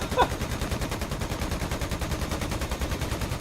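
Rapid, continuous automatic gunfire in the DCS World combat flight game, a dense rattling burst of evenly spaced shots that runs through the whole stretch at a steady moderate level.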